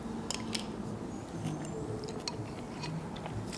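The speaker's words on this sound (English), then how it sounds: "Sorry that you have to hear my chewing and stuff." Chewing on cabbage soup with softened cabbage giving a light crunch, close and steady with repeated soft crunchy bites across the clip, no talking.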